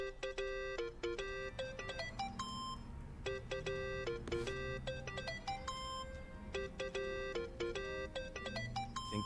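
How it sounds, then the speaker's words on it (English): A mobile phone rings in the video game Yakuza: Like A Dragon, a bright repeating electronic ringtone melody sounding in bursts over a low background of game ambience. "Think that's your phone, man."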